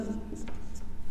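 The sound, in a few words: pen writing on paper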